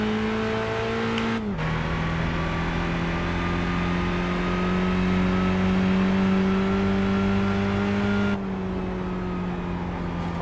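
Racing car engine in Gran Turismo 5 drones steadily at high revs, with a shift-like pitch drop early on and a small change near the end, loud and continuous without speech.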